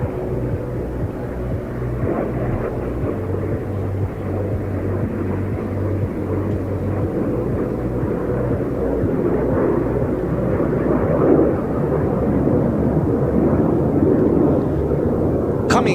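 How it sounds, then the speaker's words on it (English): A formation of four military jets passes at a NATO Days air show in the Czech Republic, a loud continuous engine roar that builds steadily over sixteen seconds with outdoor crowd ambience and no break. "Coming behind is the Star main wing, 4 aircraft from the front."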